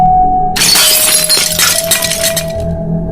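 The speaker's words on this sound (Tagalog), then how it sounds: "Basag na ang salamin" A mirror's glass shatters loudly up close as a horror sound effect, a sudden crash followed by a spray of tinkling, clinking shards that rings on for a few seconds over a low sustained tone.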